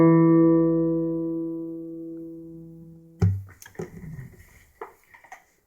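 A guitar string fretted at the second fret is plucked once and rings out alone, decaying slowly over about three seconds, followed by faint handling clicks and fumbling noises.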